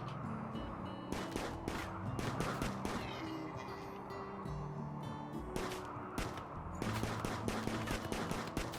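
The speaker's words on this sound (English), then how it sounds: "Wild firing everywhere." Gunfire from the Rimworld video game, with repeated bursts of shots and rapid firing scattered across the stretch over a busy, continuous backdrop of game sounds and music.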